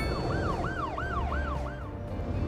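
Ambulance siren from the city-building game Cities Skylines 2, a steady rising-and-falling wail repeating about every third of a second, loud and continuous over a dense background of traffic rumble.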